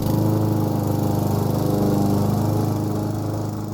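A lawn mower engine drones steadily and loudly for a few seconds, close by and alone, easing off slightly at the end.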